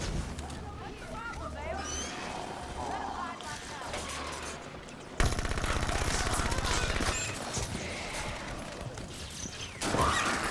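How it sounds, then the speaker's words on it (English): Hydra rocket explosions in a Halo campaign battle, with bursts of blasts and crackling gunfire that grow louder and denser midway, while people talk over the action. "that Watcher just threw back a Hydra rocket at me"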